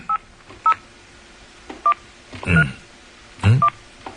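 A telephone keypad sends short DTMF beeps, a handful of separate tones at uneven intervals, mixed with a few brief rustling clicks and faint background noise. No one speaks.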